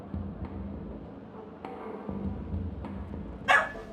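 Dogs bark in a Honkai: Star Rail game scene, a few scattered yips over a low background hum, ending in one louder, sharper bark.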